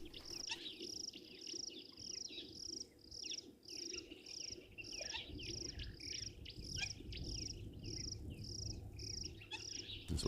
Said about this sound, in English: There's also a greenback Cameroptera that is calling too.